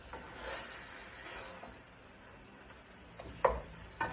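Chopped beef sizzling and frying in a pan for dirty rice, a quiet steady hiss broken near the end by a couple of sharp scrapes and clacks as the spatula chops and stirs.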